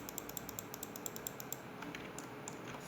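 Rapid, regular computer mouse clicks while selecting vertices in Blender, a close train of light sharp ticks that thins out toward the end, over a quiet hiss and without speech.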